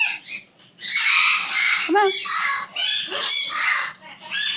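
Buttons, a pet parrot, squawks and chatters in harsh bursts during slow, gentle step-up training with a towel, close up and loud, while a person speaks softly to the bird.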